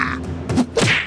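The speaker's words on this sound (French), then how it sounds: "Oh, joli coup de poing." A punch lands in a fistfight in the Siren Head video game, a sharp thwack followed by a second heavy thud with a groan-like tail, each loud and close in a short burst.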